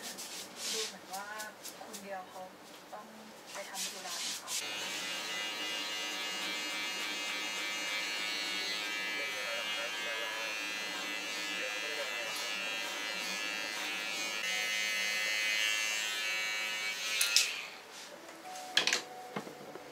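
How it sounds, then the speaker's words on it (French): A barber's electric razor buzzes steadily through a haircut in a Thai barbershop, a long continuous drone with brief clicks and shifts as it moves over the head, and people speak quietly in the room. "Je crois qu'il a fini au rasoir."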